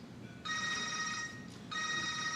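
A telephone rings in two quick bursts of a bright electronic trill separated by a short pause, fairly faint against low room noise, with no talking.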